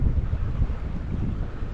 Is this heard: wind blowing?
yes